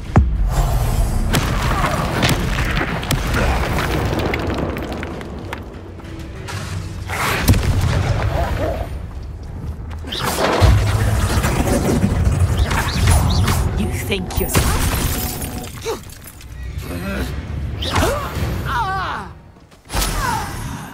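Confringo spell explosions in the Hogwarts Legacy video game, heavy booming blasts and crashing impacts that come again and again across a loud, dense battle mix, with thuds and whacks mixed in.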